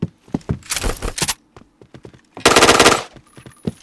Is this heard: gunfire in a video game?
yes